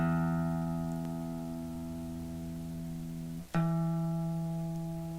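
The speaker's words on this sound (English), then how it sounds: "let's tune up. All right, let's start with our E string" A guitar's low E string plucked and left ringing while being tuned, sustained and fairly quiet, then struck again partway through and allowed to sustain alone.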